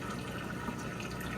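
Water rushing steadily into a Kenmore washer drum as it fills for the rinse cycle, a constant close hiss of flowing liquid with no voices.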